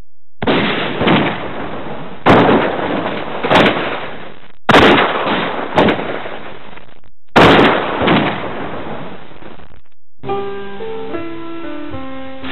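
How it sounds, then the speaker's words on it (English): Buffalo hunters' rifles fire in a series of sharp, loud shots spaced a second or two apart, each with a brief echoing tail, followed by a short musical passage. "Some stopped shooting just long enough to cool their overheated rifle barrels with canteens of water."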